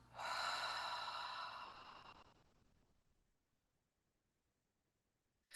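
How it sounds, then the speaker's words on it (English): A single deep breath is let out slowly, a close, breathy exhale that starts strongly and fades away over about two seconds into near silence. "So one deep breath"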